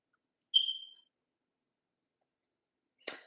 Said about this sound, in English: don't worry about my goddamn fire alarm